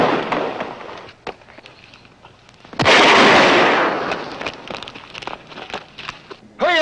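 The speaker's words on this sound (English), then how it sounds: "That's rifle fire." Rifle fire cracks out in a sharp, echoing shot followed by a long rolling burst, with scattered pops and clicks around it and a voice briefly at the end.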